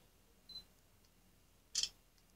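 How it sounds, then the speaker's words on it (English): Two crisp camera shutter clicks from a Sony Xperia M4 Aqua phone, a light tick followed about a second later by a sharper, louder snap, close and alone in a quiet room. "Here we have a dedicated camera shutter"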